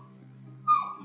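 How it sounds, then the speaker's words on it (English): A little beagle whines in a short, high, wavering whimper that rises near the end, close and fairly quiet over a low steady hum. "No, don't go howling and stuff. The little beagle."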